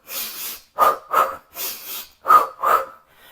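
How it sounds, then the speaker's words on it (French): Six paced breaths in a rhythmic breathing exercise, inhales and exhales alternating in a steady pattern, each a close, clear airy rush followed by a short pause, with no talk. "Ça peut être inspire, expire, inspire, expire."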